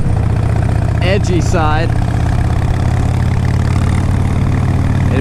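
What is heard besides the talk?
2004 Harley Davidson Road King Custom motorcycle engine idling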